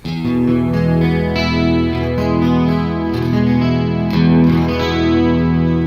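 A single sustained E note on an electric guitar fitted with an eNut tuning system, distorted with a chorus-like shimmer, rings out loudly and steadily for several seconds.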